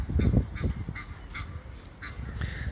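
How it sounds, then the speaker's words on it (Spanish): An Egyptian goose honks loudly and repeatedly in a choppy, agitated series, close by and outdoors with no voices over it. "Aquí tenemos un ganso del Nilo gritando como loco."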